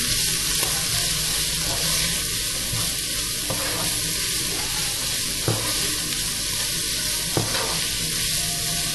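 Nasi goreng powder mix being sautéed in a pan gives a steady, loud sizzle and frying hiss with occasional stirring scrapes and clicks, no talking.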